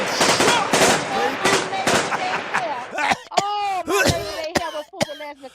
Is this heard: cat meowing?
no